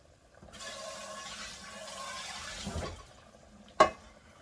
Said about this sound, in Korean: 팍팍 끓습니다